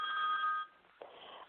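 A phone rings with a bright electronic tone that cuts off, then a quieter chirp follows moments later, heard faintly in a quiet room.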